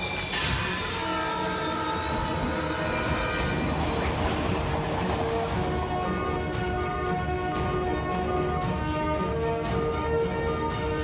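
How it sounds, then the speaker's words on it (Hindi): A runaway train with failed brakes in an animated scene roars along continuously, with loud screeching wheel squeal and rolling rail clatter sustained throughout, close and dense. "ट्रेन के ब्रेक हो गए हैं,"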